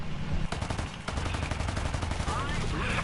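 Aircraft machine guns firing in War Thunder air realistic battles, with a World War II Wildcat fighter involved: dense, continuous rapid bursts with brief gaps, loud and close, over a droning engine.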